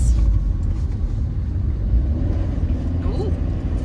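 Car interior on a drive home through a village, a steady low engine and road rumble throughout, with a person talking over it.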